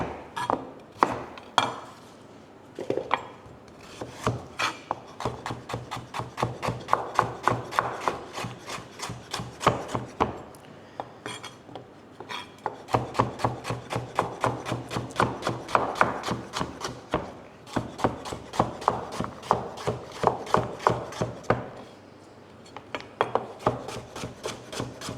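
A peeler scraping along washed carrots, a long run of quick rhythmic rasping strokes in bursts with brief pauses between, close and crisp, no talk.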